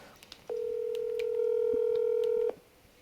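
A single long telephone keypad tone holds steady for about two seconds, loud and close, with faint background noise before and after; no one speaks.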